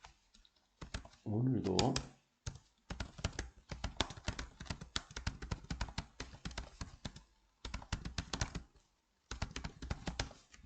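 Computer keyboard typing while building a Cafe24 shopping mall banner: steady bursts of quick, close clicking keys with short pauses, and a brief spoken word early on.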